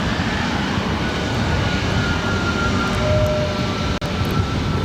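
Airplane at LAX airport, a loud sustained engine roar held steady close by with no voices.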